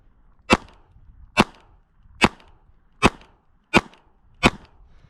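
Six sharp gunshots from a KelTec P32 pistol, fired at a steady pace about a second apart, each a loud crisp crack with a short ringing tail and quiet between shots.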